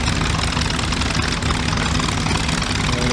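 Steady, loud drone of a WW2 propeller plane engine in the VR flight game Gunship Sequel WW2, idling with a constant low rumble and hum that holds without a break, no voices present.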